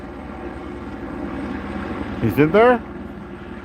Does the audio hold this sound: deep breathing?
no